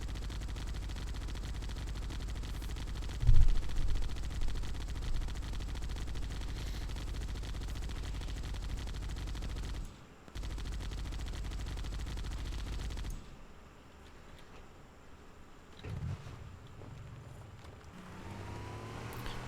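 Gunfire in the PC shooter Halo: Combat Evolved, a dense continuous rattle with one sharp louder shot early, cutting off and giving way to quieter scattered shots and ambient game noise.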